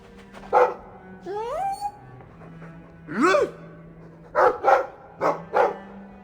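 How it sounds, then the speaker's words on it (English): Dog in the fantasy game Dragon Age II giving several barks, yips and whining sighs in irregular bursts, close and fairly loud over a quiet background. "I like the doggy."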